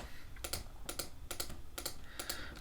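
Keyboard keys and mouse buttons clicked at a computer while editing in After Effects, Shift held down, in quick double-click pairs repeating five times at a steady pace, close and clear with no talking.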